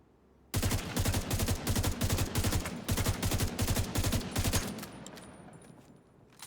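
Rapid gunfire in a video game, shot at a wall, rattles in quick bursts of loud, closely spaced reports for about four seconds, then trails off into fading echoes and quiet.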